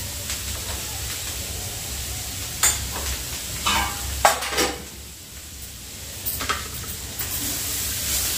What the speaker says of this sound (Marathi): आणि हे पुन्हा छान असं मिक्स करून घ्यायचं आहे